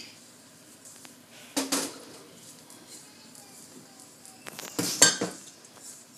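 Utensils clink and scrape against a bowl in two short bursts as paratha dough for Mughlai keema paratha is mixed with an egg, with quiet pauses between.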